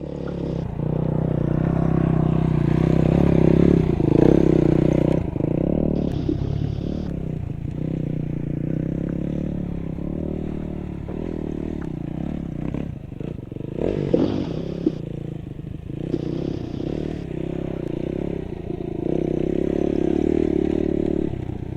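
Loaded adventure motorcycle riding a back trail on day 18 of the TransAmerica Trail, steady close engine drone with revving in lower gears, clatter and scrape of the bike and luggage over rough ground, continuous for the whole stretch.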